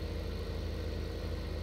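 A tractor engine in Farming Simulator 15 is left idling, giving a steady low rhythmic chug at close range with no other sounds.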